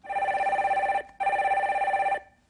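A telephone rings twice in two long bursts separated by a short gap, loud and trilling, as a viewer's call is connected on a live broadcast.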